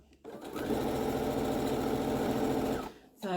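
A sewing machine runs steadily and close for about two seconds, its rapid stitching joining quilt block pieces for a low-volume Celtic Cross block, starting and stopping cleanly.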